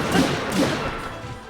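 Silver bokoblin axe hammering a lynel's back in a video game, with two heavy dull thumps under a dense rumbling game soundscape.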